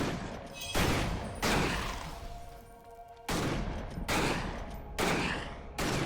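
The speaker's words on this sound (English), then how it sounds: "this is ostensibly a shotgun, but we must be using slugs, dude" Repeated shotgun blasts firing slugs in an action RPG video game, about five loud booming shots spaced roughly a second apart with decaying tails between them and no talking.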